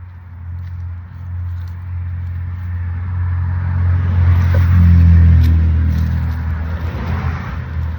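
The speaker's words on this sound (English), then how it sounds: "Traffic on this road is insane." Heavy road traffic passing outdoors, a deep rumbling vehicle drone that swells to a loud peak as it goes by, then fades back, with no talk over it.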